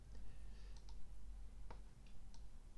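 A single soft computer mouse click while working in Fantasy Grounds tabletop gaming software, brief and faint against a low steady hum, with a few other tiny ticks around it.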